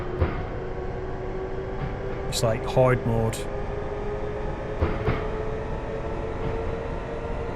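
Train running over snow in the video game Running Train, a steady low rumble and hum of wheels and motor throughout, with someone talking over it and brief higher tones and clicks mixed in.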